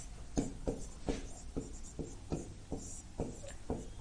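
Chalk or marker writing on a classroom board during a lesson, a series of quick sharp taps and short scratchy strokes in an uneven rhythm, close and fairly quiet, with no talking.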